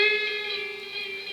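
Electric guitar with effects and reverb sustaining a single note that slowly bends up a semitone from the 12th to the 13th fret, bright and steady, fading slightly over its short length, no talking.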